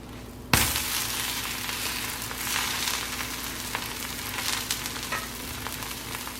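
Sprouts dosa batter hits oil on a hot pan with a sudden crackle, then settles into a dense, continuous sizzle with scattered pops, close by and steady, no voices.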